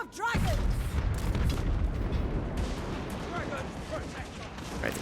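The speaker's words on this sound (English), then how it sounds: "the crane guns are gonna open up" Crane guns open fire in a Total War Warhammer 3 battle, with a continuous thunder of booming shots and battle din, loud and sustained beneath a speaking voice.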